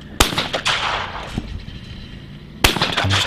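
Two sharp shotgun blasts at a sporting clay shooting championship shoot-off, loud and close, spaced a couple of seconds apart, each trailing into a short echo.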